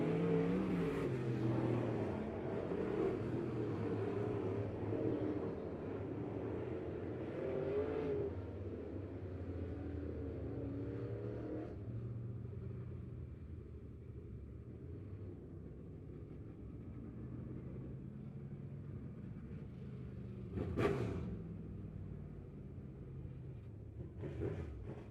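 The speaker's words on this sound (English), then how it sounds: "Coming out of turn number 4 for the final time for late model heat race action" Late model race cars roaring out of turn 4 at Lebanon Midway Speedway during a heat race, loud engine rumble and revving that fades as the pack moves off, followed by a brief close pass near the end.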